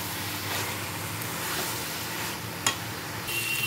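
Fried fish heads simmer with ash gourd in a pot, producing a soft, steady bubbling sizzle with a brief sharp clink of a utensil near the end, fairly quiet and without speech.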